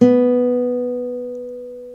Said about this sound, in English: that's the B note, and it should sound like this.